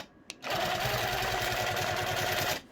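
A domestic sewing machine runs for about two seconds in one steady close whirring burst, used for basting a quilt sandwich, with a faint click just before the motor starts.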